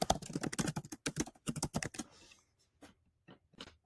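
Computer keyboard keys tapped rapidly as a presentation name is entered, a close burst of crisp clicks followed by a few scattered, quieter keystrokes, no voices.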